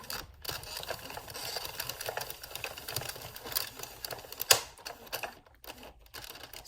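An Addi Express knitting machine carriage runs across its needles with a busy, continuous mechanical clatter that is close and steady, broken by a sharper knock midway and a few brief pauses near the end.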